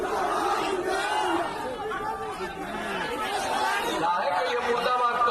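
A rally crowd at a Bihar election gathering shouting murdabad protest slogans, a dense continuous roar of many voices chanting and yelling, loud and close throughout with no pause.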